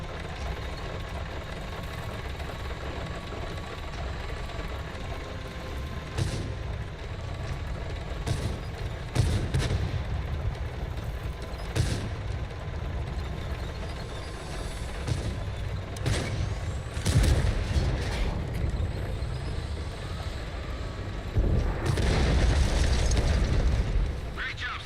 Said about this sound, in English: Oh, they got some fast artillery.